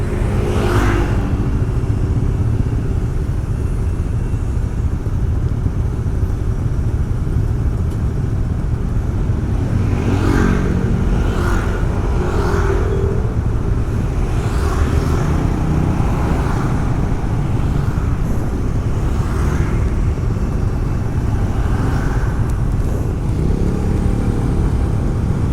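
Dense road traffic crawls through a jam in Bali, with a constant loud low rumble of car and motorcycle engines and occasional revving surges rising over the drone.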